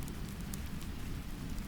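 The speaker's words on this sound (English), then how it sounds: "breaking softly with each raindrop that lands" Gentle rain falls steadily onto water, a soft continuous patter of raindrops with faint individual drips, near and even in level, with no voices.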